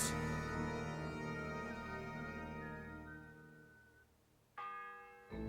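A church bell in Kingdom Come: Deliverance II tolls with a long ringing decay that fades over several seconds, then a second strike rings out loud and clear near the end.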